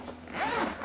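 The zipper of a guitar bag compartment is pulled in one quick, close, raspy stroke.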